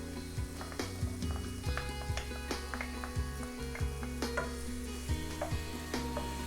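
Garlic sizzles in a lightly oiled pan for a mixed seafood rice bowl, a close, steady crackling hiss broken by repeated clicks and scrapes of stirring.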